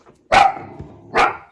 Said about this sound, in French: le chien va aboyer non-stop